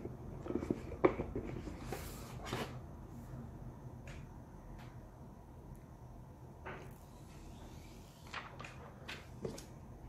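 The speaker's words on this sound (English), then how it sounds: "I really like doing that, peeling off the little plastic." Protective plastic film is peeled off a Xiaomi Mi Max 2 phone, giving close, soft crinkles and a few sharp little rips and ticks scattered over a quiet, rustling background.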